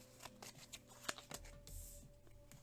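Tarot cards, majors only, drawn one by one from a deck, with soft papery slides and light flicks recurring irregularly, close and quiet, and no talking.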